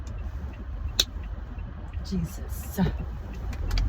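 Cars moving in slow Houston traffic, a low continuous engine and road rumble heard from inside a vehicle, with a man's brief exclamation over it.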